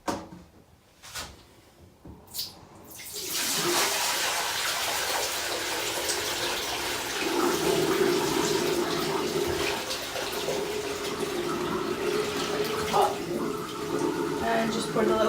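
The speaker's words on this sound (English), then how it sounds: "I'm going to empty this down the sink" Water from a tub pours down a sink in a steady, gushing rush that lasts several seconds after brief clatter of items being moved, with a voice talking over it.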